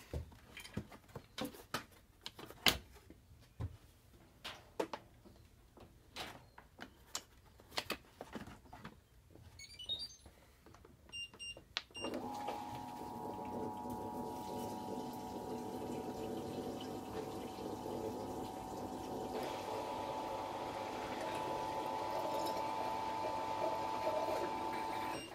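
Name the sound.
Fisher Paykel Smart Drive washing machine draining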